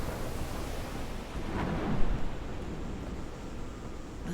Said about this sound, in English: I'm quite scared of storms.